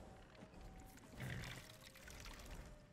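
Water is poured into a cup in the video game Skyrim, a soft, faint pouring swell that rises midway over a quiet hiss.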